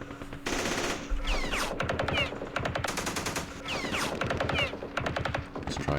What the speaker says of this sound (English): Let's do some shooting.